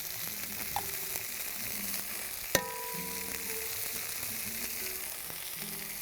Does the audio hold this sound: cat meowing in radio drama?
no